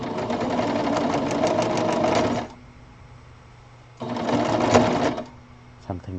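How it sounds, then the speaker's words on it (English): A sewing machine runs with its thread off, whirring loudly in two bursts separated by a quiet pause, ending with a brief clunk. "You can hear your machine and you know something is off."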